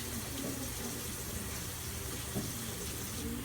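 A hand-washing sink tap runs steadily while hands are rinsed during a nursing assistant skills demonstration, a continuous close hiss of water with faint splashing and no talk.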